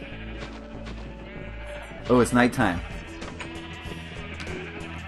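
Sheep in a crowded Minecraft sheep farm bleat in three loud, close cries, one after another, over a background game soundscape, while someone talks briefly.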